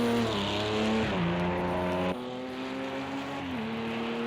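Audi race car engine in a Le Mans 24 Hours sim race video game, a loud sustained drone with rising and falling pitch as gears shift, one sharp drop partway through, with no talking.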